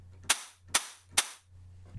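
A shortened crash cymbal sample with a sharpened attack plays three times in a steady rhythm, each a bright, clipped burst that cuts off quickly over a low sustained tone, with a fourth softer hit starting at the end.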